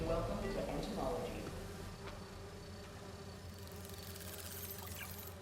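Virtual bee wolves in the Marvel's Spider-Man 2 video game, a steady insect-like buzzing drone under game sound effects and a soft musical bed, fairly quiet and continuous throughout.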